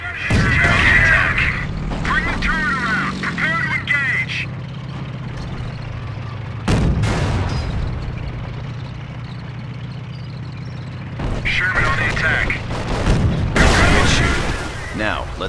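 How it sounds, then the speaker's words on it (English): Panzer cannon shots strike a Sherman tank in Company of Heroes, heavy booms landing at intervals amid rumbling engine noise and clattering, with game voices talking in between. "That shot from the Panzer scored a critical hit and has immobilized your tank."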